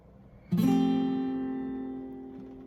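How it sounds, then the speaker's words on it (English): A single guitar chord strummed once from the D string down, close and clear, then left to ring and slowly fade. "Strumming from the D string down."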